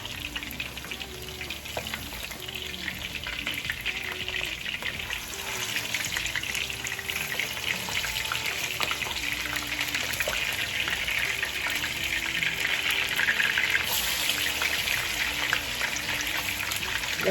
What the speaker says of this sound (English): So it's time to turn the salmon over.